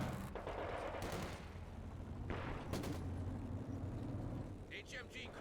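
Bursts of sustained gunfire during a competitive video game match, rattling in repeated volleys beneath continuous commentator talk.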